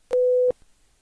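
A pure 500 Hz sine test tone plays as a single steady beep of about 0.4 seconds, clean and even, with brief clicks at its start and stop and silence afterward.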